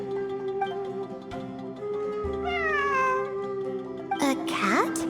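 Cat meowing in the video game Genshin Impact, several drawn-out mewing cries rising and falling over background music and ambience, with a final sharper meow near the end.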